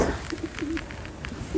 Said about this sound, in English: You can hear pigeons.